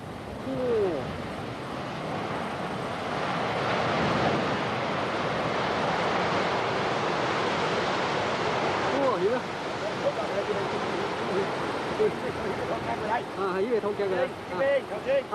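A huge landslide of earth and rock pours into an abandoned mine, a loud sustained roaring rumble like rushing water, heard over wind noise on the microphone.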